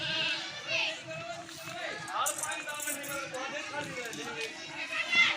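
Goats bleating on a Rajapuri goat farm in Dera Ghazi Khan, several calls rising over steady farmyard bustle, with someone talking throughout.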